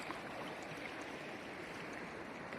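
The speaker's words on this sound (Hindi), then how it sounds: "देखिए कितनी बेहतरीन, कितनी सुंदर, कितनी निर्मल ये कल कल बहती हुई" Continuous babbling flow of the Narmada river at Omkareshwar, a dense steady rush of water heard up close, with a small knock near the end.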